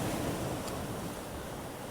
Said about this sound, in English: This is the Mediterranean Sea.